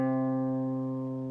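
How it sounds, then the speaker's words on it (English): One guitar note, picked once on the third fret of the A string, rings out clear and steady, slowly fading with no other sound. "place your pointer finger here on the 3rd fret of your A string. Pick that note 1 time."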